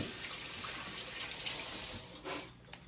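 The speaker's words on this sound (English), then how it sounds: "Let me wash my hands off again" Tap water runs steadily into a sink while hands are rinsed after shaping cauliflower patty batter, a continuous close hiss that eases off near the end.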